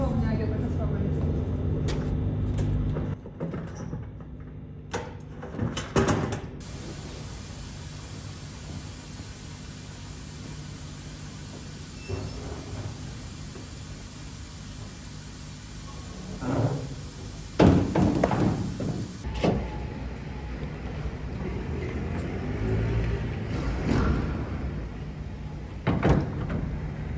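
Doors on a truck are handled after unloading, with several heavy thuds and metallic bangs over a constant background hum, some loud and close, spread irregularly across a long stretch.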